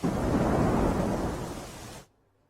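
Heavy continuous rainfall during a monsoon downpour in Navsari, heard as a loud, dense roar with low rumbling that fits thunder, holding steady before cutting off abruptly near the end.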